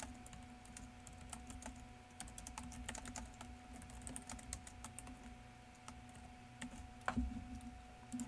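Rapid, uneven keystrokes on a computer keyboard clatter through the whole stretch at close range over a steady low hum, with a slightly louder tap near the end and no voice.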